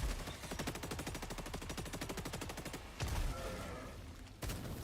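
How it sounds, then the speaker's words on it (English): Gun firing in rapid sustained bursts in a video game, a fast regular volley of loud close shots that breaks off briefly, then resumes twice. "I love the shotgun."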